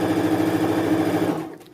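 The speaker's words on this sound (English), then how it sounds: "As you can see, it's sewing." A Juki HZL-60-HR-B sewing machine runs steadily under a foot controller, giving a fast, even mechanical whir with a regular stitching pulse that stops abruptly near the end.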